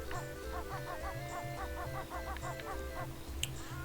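Video game birds in Banjo-Kazooie, a rapid run of repeated honking, clucking fowl calls in a quick steady rhythm over a low looping music bed.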